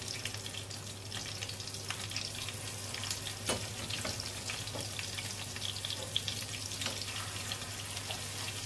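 Butter sizzles and crackles in a pan, a steady close frying hiss with small pops and a faint scrape or clink now and then, no talking.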